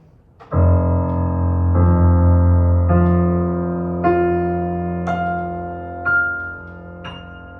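Piano F notes struck one after another, each ringing out and overlapping, a steady sequence of sustained tones with no voices.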